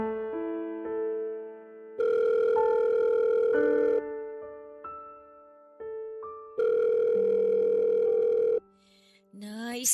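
A telephone rings with an incoming call, its melodic electronic tone repeating in loud bursts separated by brief pauses, clear and alone in a quiet room.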